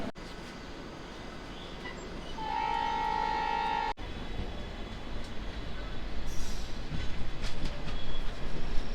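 Shalimar Express passenger train rolling along steadily with a rumbling, clattering roar that grows louder; a brief horn sounds partway through.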